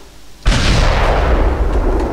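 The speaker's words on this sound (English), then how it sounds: "this is an artillery cannon" An artillery cannon fires in Desert Combat, a Battlefield 1942 mod: one sudden loud boom that rolls on as a sustained roaring blast and rumble.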